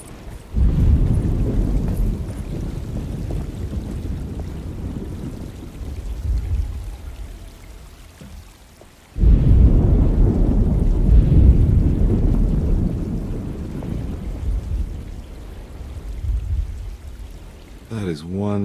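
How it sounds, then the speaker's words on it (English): A heavy thunderstorm, deep rumbling thunder rolling continuously under steady rain, loud and close, with a sharp fresh thunder swell partway through before easing back into the downpour. "Just keeping an eye out for the storm."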